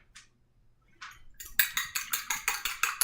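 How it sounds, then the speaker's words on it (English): An egg being beaten with a fork in a bowl for an egg wash: a rapid, even run of bright clinking taps that starts after a short pause and rings out close and fairly loud. "So I'm beating my egg."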